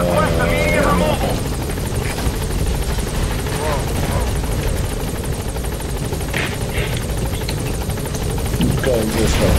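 A helicopter hovers while trying to land in the video game Metal Gear Solid V: The Phantom Pain. Its loud, continuous rotor drone persists throughout, with voices talking over it.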